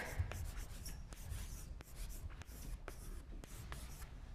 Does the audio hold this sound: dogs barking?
no